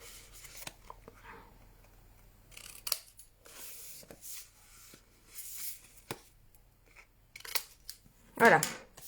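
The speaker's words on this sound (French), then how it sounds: "Et on va venir couper les deux côtés ici, les deux pointes." Scissors snip through the two corners of folded paper while making a tea-bag gift pouch, several short crisp cuts scattered between stretches of quiet French talk, with one louder sharp snip near the end.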